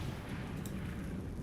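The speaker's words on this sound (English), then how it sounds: "Choking gas explosion 20k" A choking gas explosion in World of Warcraft, heard during a heroic 25-player Icecrown Citadel raid as a dense, continuous low rumbling blast that stays loud and steady for its whole short length, with no voices.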